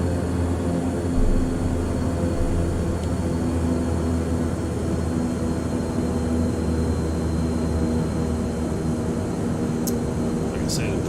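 A Beechcraft King Air turboprop in a flight simulator game taxis toward the runway, giving a steady, continuous engine drone with a low rumble that holds at an even level throughout.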